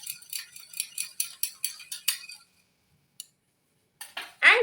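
Salad dressing with salt and pepper is mixed briskly in a bowl: about eight quick rhythmic clinking strokes, then a pause, a single click and a few final scrapes.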